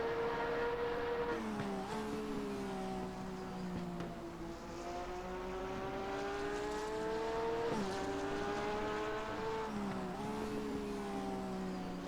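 DTM race cars lapping the Red Bull Ring in a racing video game: engine drones rise and fall with repeated gear shifts, several cars blending into one continuous, moderately loud roar, with no voices.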